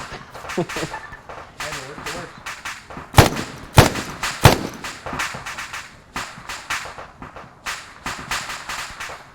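Assault rifle fire in the military shooter Arma 3: sharp, loud single shots at irregular intervals, with several strong cracks close together, over continuous game noise and voices.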